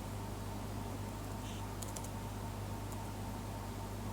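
Computer keyboard typing during a Mathematica tutorial, faint quick key clicks in a short cluster over a steady background hiss, with no talking.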